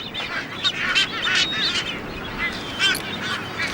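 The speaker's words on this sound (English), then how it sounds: "there is one very special bird here, the Ascension Island frigate bird" Ascension Island frigatebirds calling on Ascension Island, a series of harsh, nasal honking cries overlapping at moderate distance with no voices.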